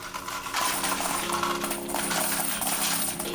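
Quarters pour steadily from a laundromat coin machine as it is emptied, a dense continuous jingle and clatter of metal coins that runs loud and unbroken for a few seconds.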